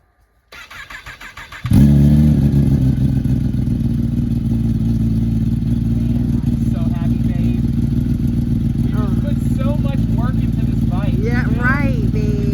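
A ZX10 motorcycle engine cranks briefly, catches with a loud burst and settles into a steady, rough idle that runs on close to the microphone, with people talking over it.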